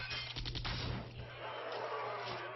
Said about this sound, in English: Mostly because it makes a machine gun noise.